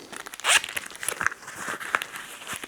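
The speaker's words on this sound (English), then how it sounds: "Oh, it's the zip." A money belt pouch zipper dragged open in quick close rasping bursts, with one louder sweep near the start and scattered scratchy rustles afterward.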